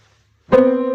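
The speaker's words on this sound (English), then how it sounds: "This is called a minor second interval, and it sounds awful." Two notes a minor second apart struck together halfway through, sustaining as a clashing, close-pitched chord after a short silence.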